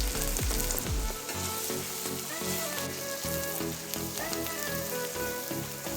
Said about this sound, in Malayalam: അപ്പോൾ നീളത്തിൽ അരിഞ്ഞിട്ട് നമുക്ക് ഇതിലേക്ക് ഇട്ട് കൊടുക്കാം. നല്ല രീതിയിലൊന്ന് വഴറ്റി കൊടുക്കാം കേട്ടോ.